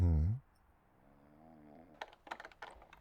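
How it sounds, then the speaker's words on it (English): Someone snoring in the video game Vampire the Masquerade Bloodlines: one loud, low rasping snore up front, then quiet game ambience with faint clicks and small taps. "Someone is snoring."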